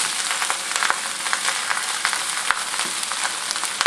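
Rice fries in a hot, oiled wok while being broken up, giving a dense, steady crackling sizzle broken by frequent light scrapes and taps of a utensil, close and continuous with no voices.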